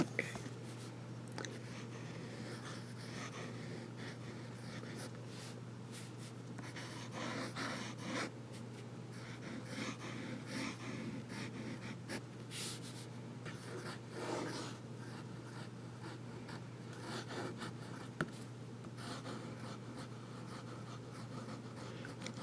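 Soft, continuous scratching of a calligraphy pen nib drawing thick and thin ink strokes on paper, faint and close against a steady low hum, with small breathy noises scattered throughout.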